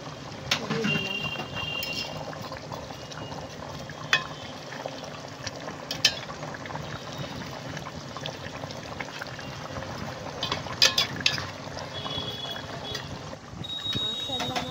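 Rui fish curry with potatoes simmering in a pan, a faint steady bubbling sizzle with occasional clinks of utensils, heard under someone talking throughout.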